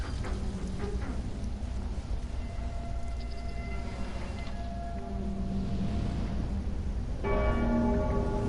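Tolling bell chimes from the Dark Souls 3 video game ring out over a dense, rumbling game soundscape, with several sustained tones decaying and a louder strike near the end.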